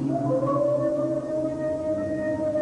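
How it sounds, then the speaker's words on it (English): A recorded gorilla vocalization blares through the night woods, a long, steady, moaning tonal call with sliding harmonics, loud and unbroken throughout. "they blare a vocalization recording of a gorilla and then listen for a response"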